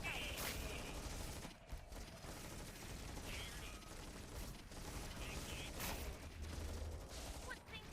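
Video game gunfire in a real-time strategy match, dense bursts of rapid mechanical shots layered with clanking unit and machinery effects, steady and busy throughout with no clear pauses.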